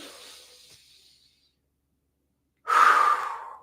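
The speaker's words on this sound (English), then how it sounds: "I want to do a lot of breathing today." Deep yoga breaths during a morning practice: a soft exhale fades out, a pause of near silence follows, then a loud, close, forceful breath rushes in and tapers off.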